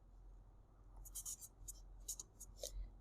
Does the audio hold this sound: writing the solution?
yes